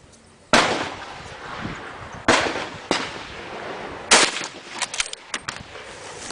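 Rifle fire from an Irish army gun: four or five sharp, loud reports spaced unevenly over a few seconds, each with a short ringing decay, the last few coming quicker and lighter.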